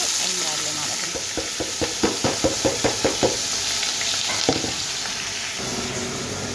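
Chopped onions frying in oil in a pan, a steady sizzle with a run of knocking stirs in the middle, close and moderately loud.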